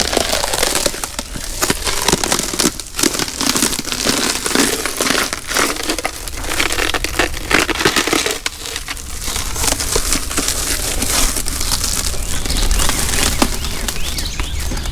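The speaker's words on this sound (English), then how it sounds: "Now I'm just folding it up to dispose of it." Sheets of removed windshield material from a 1979 car are folded and crumpled for disposal, producing a continuous dense crinkling and crunching that stays loud and close throughout, with no talking.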